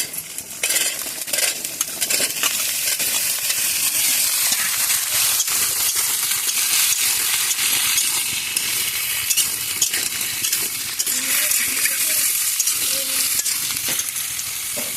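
Cut potatoes and pointed gourd fry in a hot pan, giving a steady, loud sizzle, with stirring and the scrape of a utensil against the pan throughout, and no talking.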